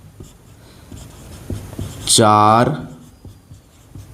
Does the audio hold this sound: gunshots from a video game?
no